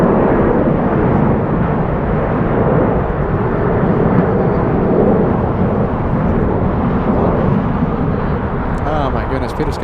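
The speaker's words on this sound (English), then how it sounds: "we have a Delta 757 next for takeoff" A Delta Boeing 757 takes off from LAX in strong winds, a loud continuous roar of engine and wind noise filling the whole stretch without letup.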